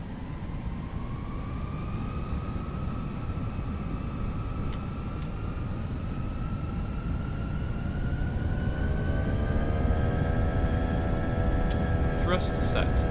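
Airliner engines in the Prepar3D flight simulator spool up for takeoff, a steady loud roar with whining tones that rise and climb in pitch, ending in a few clicks.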